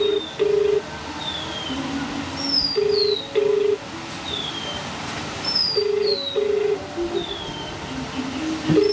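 Repeated paired dialing tones ring out clearly on a phone, pausing and starting again several times, while birds call and coo faintly in the background.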